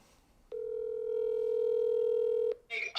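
A telephone call rings out on a steady electronic dialing tone, one long held beep of about two seconds starting and stopping cleanly, followed by a brief burst of a voice answering.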